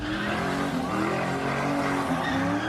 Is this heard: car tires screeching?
yes